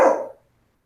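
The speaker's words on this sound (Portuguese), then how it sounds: "o cachorro aqui quer participar da aula" A single short, sharp dog bark sounds close by, then cuts to silence.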